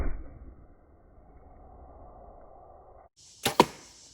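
An arrow with a large-cutting four-blade broadhead, 676 grains, loosed from an 80-pound Hoyt bow strikes bone: a low rustling lead-in, a brief pause, then two sharp, loud cracking impacts in quick succession.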